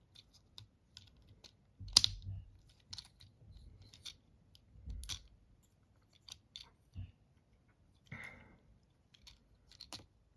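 Plastic clicks and snaps from folding out the chest of a Transformers Age of the Primes deluxe class animated Wasp action figure, a few sharp ticks with one louder crack, close and quiet with no talk.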